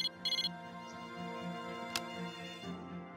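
A cell phone message ringtone from the video game Persona 3 Portable plays alone as a bright, tonal electronic jingle with a few quick opening beeps, holding steady for about three seconds.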